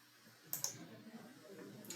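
A computer mouse right-click, a couple of small sharp clicks close together, quiet and near against faint room hum.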